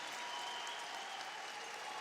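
Curling arena crowd at the World Men's Curling Championship cheering and applauding a Team Canada score, a dense, steady wash of clapping and cheers filling the hall throughout.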